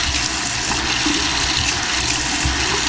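A faucet attachment on its shower setting sprays water in a steady, broad hiss that runs unbroken and fairly loud throughout, with no talk.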